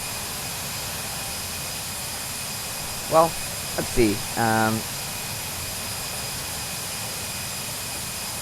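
Steady broadband roar of an Airbus A321 jet engine in Microsoft Flight Simulator X, continuous and even throughout, with someone briefly speaking over it midway.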